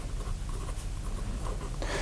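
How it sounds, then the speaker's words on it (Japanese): A pen scratches quickly and steadily across paper while inking dragon scales in a sketch, producing a continuous close rasping with quick rhythmic strokes. "早送りはしてないのでザザザと勢いで描いてました"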